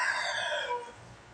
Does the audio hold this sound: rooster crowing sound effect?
yes